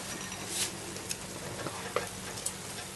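Mango chutney mixture heating in a pot over high heat gives a steady soft sizzle and bubbling, broken by scattered sharp ticks and pops. It sounds close and fairly quiet, with no voices.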